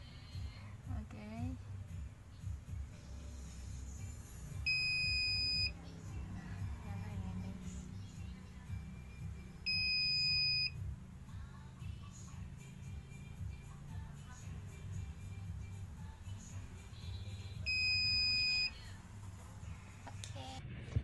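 An ESP32 motion detector's active buzzer gives three separate electronic beeps, each lasting about a second, at roughly evenly spaced intervals. They sound over a low background hum of room noise.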